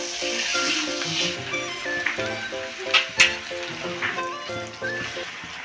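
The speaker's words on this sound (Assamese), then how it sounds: "নিমখ দি লৈ মাংসখিনি ৰঙা হোৱালৈকে ভালদৰে ভাজি ল'ম" Duck meat frying in plenty of oil with onion, garlic, spices and salt in a pan, a continuous close sizzle broken by a few sharp pops and crackles, with music playing behind.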